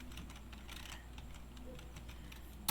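Quiet, close typing on a computer keyboard, a fairly even patter of light key clicks ending in one sharper keystroke.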